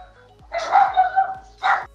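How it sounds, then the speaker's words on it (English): A dog barks in a short burst of several yelps over about a second, then one more bark after a brief pause, fairly close and clear against a quiet room hum. "And then you have a dog barking."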